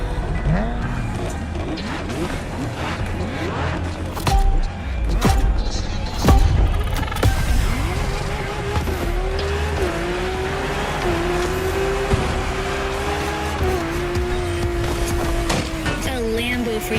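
A Lamborghini in The Crew Motorfest races with a loud, sustained engine roar, its pitch rising and holding through gear changes, while tires squeal and brief impacts punctuate the drive.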